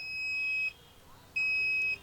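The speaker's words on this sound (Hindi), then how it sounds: "मल्टीमीटर को रखेंगे बीप मोड में" A multimeter set to continuity mode on a sound bar's circuit board gives two steady, high-pitched beeps, each about two-thirds of a second long with a short gap between, clear and close over a quiet background.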